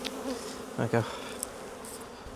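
Honey bees buzz steadily around an opened hive box during a colony inspection, a soft continuous drone with a few brief bumps of handling noise, and a voice speaks briefly.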